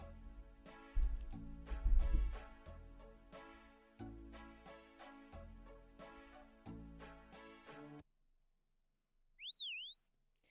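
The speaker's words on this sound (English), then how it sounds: "This is my favorite teleport animation in the game, is the Queltzel whistle." In the video game Old School RuneScape, background music plays, then stops, and a quetzal whistle is blown for a teleport: one short, clear, up-down-up whistled chirp in near silence.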